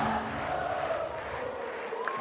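A stadium crowd cheers steadily through a beach volleyball gold medal match between Evandro/Andre and Doppler/Horst. The sustained roar stays loud and even, with a faint whistle near the end.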